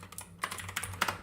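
Rapid typing on a ThinkPad laptop keyboard, a burst of close, crisp key clicks in an uneven rhythm with a few louder taps, no one talking.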